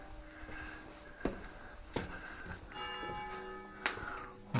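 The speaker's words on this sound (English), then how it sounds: "Got the bells tolling now." Church bells toll for a funeral in Fraine, a small old Abruzzo town, with several distinct ringing strikes spaced about a second apart, each decaying into a faint, moderately distant hum.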